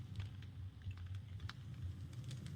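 Computer keyboard typing during a Minecraft survival session: a quick, light patter of close keystrokes, uneven in rhythm, alone with no talking.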